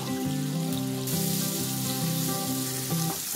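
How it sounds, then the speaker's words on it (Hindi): Green chillies, capsicum and onion sauté in hot oil for chana chilli, a steady close sizzle and crackle that runs continuously with no voices over it. "सब्जियों को थोड़ी सी देर तक पकाना है, सौते करना है।"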